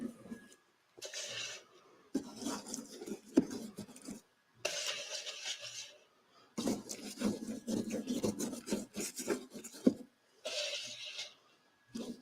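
Scenery material is rubbed by hand onto a model railway landscape in repeated rough, rasping strokes. Each burst lasts a second or two, with short silent gaps between them, and it sounds close by.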